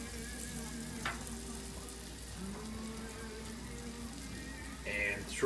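Mushrooms for Polish mushroom soup fry in a pan with a steady, even sizzle, punctuated by a few faint clinks and stirring scrapes near the end.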